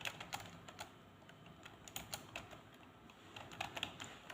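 Someone types a word on a computer keyboard, a quick series of soft, light key clicks in an irregular rhythm, close and quiet, with no talking.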